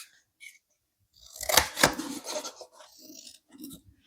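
Scissors cutting around small paper eyebrow pieces for a quilled barn owl craft, a close run of crisp snipping and rasping paper sounds, with a few quieter trims after.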